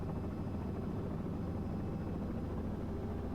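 A Robinson R66 helicopter lifting off, a steady, dense rotor and turbine drone heard from inside the cabin, constant and loud with no talk over it.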